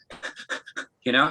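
A voice mimics heavy, breathless chest breathing: a quick run of short, panting huffs, a brief pause, then one longer, rasping breath, all close and fairly loud.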